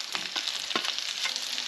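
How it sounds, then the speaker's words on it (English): Onions and peppers fry in a pan for a steak sandwich, giving a bright, steady, close hiss with brief stirring bursts and no voices. "And then we'll get onions and the peppers in there."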